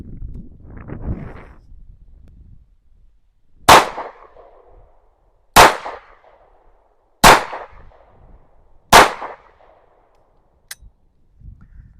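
Four loud, sharp pistol shots from an Anderson Kiger 9C Pro firing Winchester steel ammunition at an outdoor range, spaced about two seconds apart with ringing decay, followed by a faint click and low rustling.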